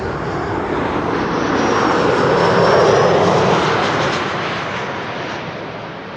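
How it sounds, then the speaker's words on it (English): A narrow-body airliner on final approach to the Kaagbaan runway at Amsterdam Schiphol roars overhead in a loud, steady broadband rumble that swells to a peak and then slowly fades, with no voices. "2 narrow bodies are on final for the Kaagbaan."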